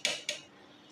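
Two quick metallic clinks of a serving spoon against a pot while dishing out mutton badami korma, fairly soft, with a short ringing decay and no talking.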